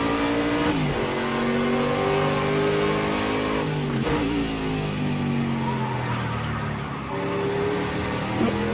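A Prototype C race car in Project CARS 2 accelerates out of a corner, its loud engine climbing in pitch through several gear changes with brief dips between, close and continuous with no talk.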